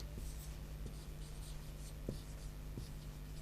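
Pen writing on paper during an eighth-grade maths lesson, a steady close scratching with faint soft taps at intervals, no talk over it.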